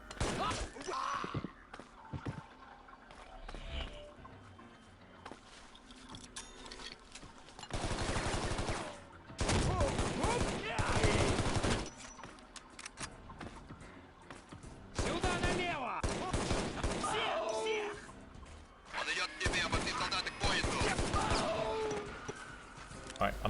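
Bursts of AK rifle fire in the video game Shadow Ops: Red Mercury come in several loud sustained volleys separated by quieter gaps, with players talking over parts of the action.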